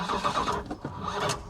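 A 1980 Plymouth Volare engine, sitting unused for years, cranks over steadily with a rough, pulsing churn that carries on throughout, loud and close.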